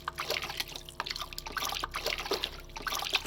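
Water sloshing and trickling in a sewer tunnel in the stealth game The Dark Mod, a steady wet churning with small drips and splashes close by, no talk over it.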